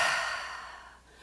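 A single deep, breathy exhale during a sacred breathing exercise, close and airy, fading steadily over about a second with no talk.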